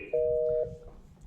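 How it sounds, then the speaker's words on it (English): A desk IP phone rings another extension after it is dialed: a single steady electronic tone of about half a second, close and clear in a quiet room. "You can either dial their extension and hit dial, and it will ring the phone."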